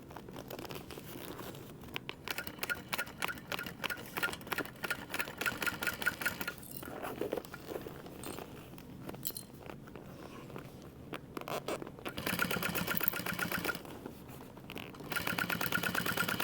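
A sewing machine stitches a crossbody bag in rapid bursts of rhythmic needle chatter, pausing and restarting several times, with soft crinkling of fabric and handling noise in between, fairly quiet overall.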